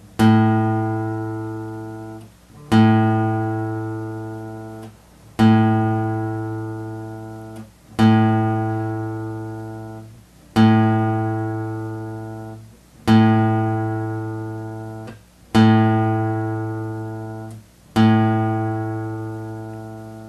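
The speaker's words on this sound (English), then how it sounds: "Okay, so here we go. The A string." A guitar's A string is plucked and left to ring eight times at a steady, even pace, each note fading slowly before the next pluck, with the pitch held nearly constant and no voices present.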